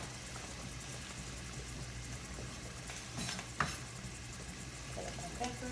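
Pasta and vegetables cook in a hot pan with a steady, close sizzle and frying hiss, broken by a clink of a utensil against the pan.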